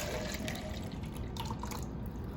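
A drink pours steadily from a medium McDonald's cup into a large cup, a continuous close liquid splash and trickle with no talk over it.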